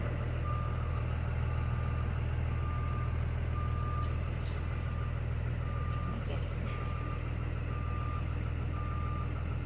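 A school bus reverses, its backup alarm beeping at a steady, evenly spaced rhythm over a low idling engine rumble, with faint talk at moments.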